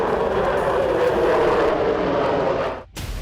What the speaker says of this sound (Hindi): Tu-160 एक supersonic variable heavy strategic bomber है।